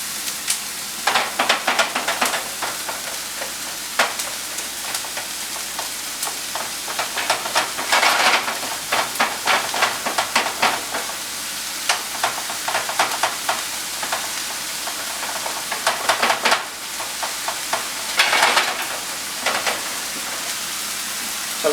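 Ground beef for a taco pie frying in a pan, a loud, steady close sizzle with crackling bursts and occasional stirring scrapes throughout, no voices.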